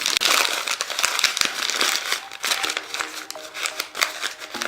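Hands crumple and squish newspaper into a ball for a DIY flower backdrop, giving a close, steady run of dry crinkling and rustling with no voices.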